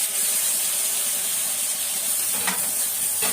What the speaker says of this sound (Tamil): இப்போ பாருங்க, தக்காளி போடுவோம்